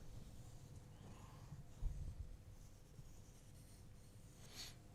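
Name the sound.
drawing around a template on wood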